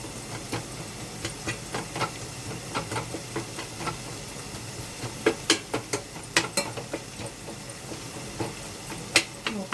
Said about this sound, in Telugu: టమాటా మెత్తగా నడుపుకుందాం